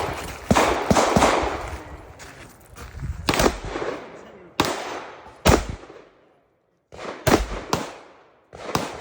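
Rapid bursts of loud gunfire on a two-gun shooting match stage, sharp reports in quick clusters separated by short pauses, close and echoing, with a brief silent gap before the final volleys.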